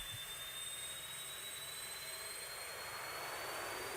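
Concorde jet engine spooling up in a flight simulator: a steady, loud roaring whine with a rising high-pitched tone that climbs slowly throughout, continuous with no pauses.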